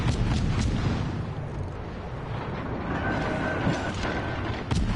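Warship guns firing in World of Warships during a naval battle: a dense, rumbling roar of heavy booms and mechanical clatter that runs throughout, with sharper blasts near the start and at the end.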